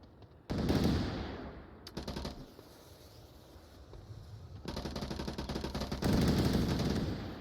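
Bursts of automatic rifle fire in the VR shooter Onward during a competitive match, rapid rattling volleys in three loud stretches separated by quieter gaps, sounding close and distant.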